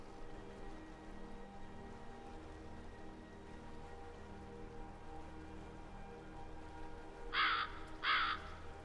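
Two short caws from video game crows ring out near the end over a steady rainy ambient background, each distinct and moderately loud, with no talking.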